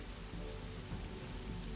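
Steady rain pattering on surfaces as an ambience for a tabletop role-play scene, a dense even hiss without breaks and no voices.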